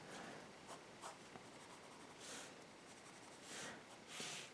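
Graphite pencil sketching the pupils of a manga cat girl's eyes on paper: soft, quiet scratchy strokes in short bursts, a few brighter swishes between lighter rubbing sounds, close to the page with no talking.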